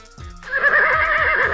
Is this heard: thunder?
no